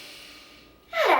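A single deep inhalation during a guided yoga and meditation session, a sudden, loud, airy intake of breath rising sharply near the end after near quiet.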